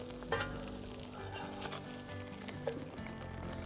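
Bologna sizzles and crackles in a frying pan over an outdoor fire, a steady close hiss with occasional sharper pops and no talking.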